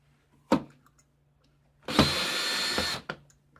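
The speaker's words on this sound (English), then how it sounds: "there's a beautifully trimmed piece of brass, and one go. Chamfer, deburred." A three-way cartridge case trimmer trims and chamfers brass in one pass. A sharp click comes first, then a pause, then a loud whirring grind that lasts about a second before stopping abruptly, with no voices.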